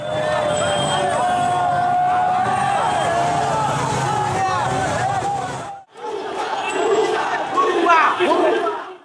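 A large crowd joins a victory procession after Sheikh Hasina's resignation, loud massed voices chanting and shouting continuously, with a brief dip near the end before the roar picks back up amid street noise.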